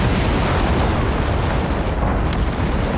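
A BL 5.5 artillery shell explodes in Company of Heroes 3, a dense, loud, sustained rumbling blast filling the whole clip with no speech over it.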